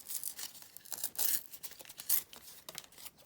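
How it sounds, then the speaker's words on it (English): Paper being torn by hand from an old cardboard box, close and fairly soft: a run of short ripping strokes with two or three longer, louder tears, alone without talk. "Right, just going to tear this down"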